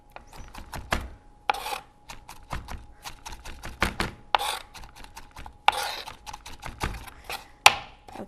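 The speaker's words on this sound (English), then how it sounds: "I'm actually going to chop these just a bit more" Knife chopping onion on a board for a salad, a rapid series of sharp close taps in uneven bursts with short pauses between.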